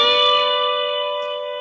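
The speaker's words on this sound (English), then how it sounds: "this 10th fret on the B string is going to go" A guitar note at the 10th fret of the B string, bent up one whole step, from a lesson, rings out alone as one clear, bell-like tone that slowly fades.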